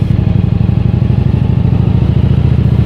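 A Japanese motorcycle engine runs close and loud, a steady rapid chugging thrum with even rhythmic pulses throughout.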